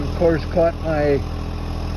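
A tractor engine idles with a steady low mechanical hum throughout, close by and fairly loud, while someone talks briefly over it during work on a cut tree.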